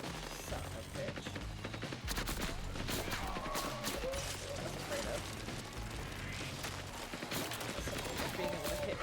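Rapid bursts of gunfire from a Jakobs-part gun with ricocheting critical hits in the Borderlands video game, dense and continuous throughout, with speech mixed in.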